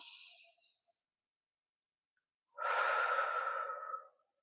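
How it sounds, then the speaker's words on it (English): Slow, calm breathing: a short soft exhale fades out, then after a pause a longer, fuller breath rises and trails off, close and quiet. "take a few moments to breathe"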